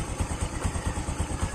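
A motorcycle engine running close by before dawn, a low, pulsing thump-thump beat repeating quickly and evenly over a rough mechanical clatter, with no voices.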